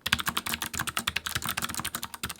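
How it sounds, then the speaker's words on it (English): Clicky blue mechanical keyboard switches are typed on quickly and steadily at close range. Each keystroke lands as a sharp, bright click in a continuous run, with no voice. "The clicky blue switches are the loudest, most tactile feeling switch."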